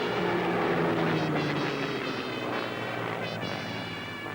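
Droning, buzzing engines of a B-17 Flying Fortress bomber at a 1980s UK airshow, a steady layered propeller hum with wavering tones that fades slightly over several seconds.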